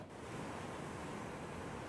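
Waves break and wash along a beach shore in rough sea conditions, a steady, dense roar of surf and wind with no voices.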